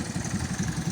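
A vehicle on a road near a hotel lane, heard as a steady mid-pitched engine hum with a throbbing, idling-like pulse, close and fairly quiet, with no voices.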